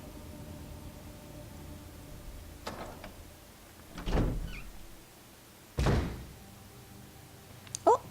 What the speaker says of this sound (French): pourquoi j'appuie sur Y pour ouvrir une porte?